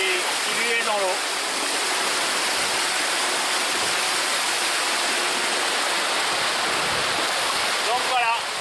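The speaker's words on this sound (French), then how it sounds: "L'hydrogénérateur qui lui est dans l'eau." A hydrogenerator turning in the water beneath the stern of the sailboat SynerCiel gives a steady, broadband rushing wash, like flowing water, that stays constant and fairly loud throughout with no break.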